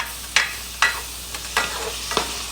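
Stew meat being stirred in a hot pan, with spoon scrapes and clatters landing in a few quick strokes over a steady sizzle, close and fairly loud.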